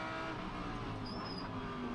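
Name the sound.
Lamborghini and Lexus GT race cars passing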